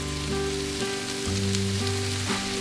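Eggs and bacon sizzle on a Blackstone griddle at a hunting camp, a steady close crackle with a low hum running under it and no talk.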